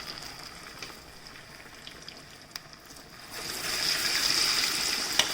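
Falafel balls frying in hot oil give a steady, hissing sizzle that swells louder partway through, close and continuous with no talk.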